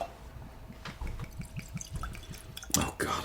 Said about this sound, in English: Let me get the Mhoba poured